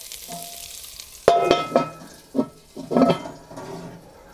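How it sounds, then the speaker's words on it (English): A kamado grill lid drops shut with a sharp knock, followed by a few clattering, scraping knocks of handling at moderate volume. "Drop that lid down"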